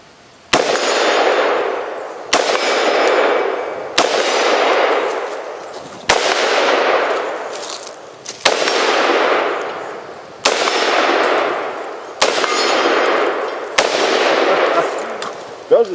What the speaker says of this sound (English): here I am on the range shooting again with another AR-15